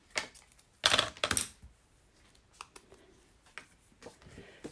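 Scissors snipping through Ornate Garden designer series paper at a craft table, a couple of crisp close cuts followed by faint paper rustling and small handling taps.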